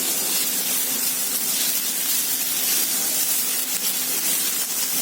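Grated beetroot hits hot tempering of peanuts, chana dal and mustard in a pan, giving a loud, steady sizzle and hiss that runs unbroken throughout with no talk.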